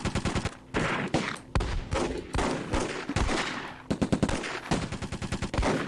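Automatic machine gun fire rattling in rapid bursts during a Close Combat wartime strategy game battle, loud and repeated with short pauses between volleys, no voices.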